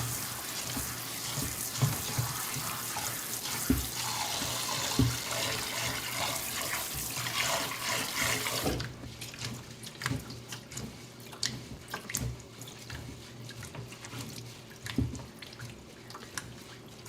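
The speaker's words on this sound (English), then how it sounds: "So washing the rice is important to me." Water runs and splashes steadily as rice grains are rinsed in a home kitchen, loud and close at first, then thinning to softer trickles and drips.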